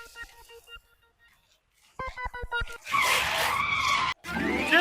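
After a few short electronic tones, a vehicle brakes hard and its tires screech in a long, loud skid that dominates the second half, with a brief break just before it ends.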